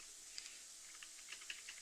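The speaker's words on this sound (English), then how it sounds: "I keep pressing arrow keys" Arrow keys on a computer keyboard tapped in a quiet room, a handful of light, separate clicks spaced unevenly over a couple of seconds.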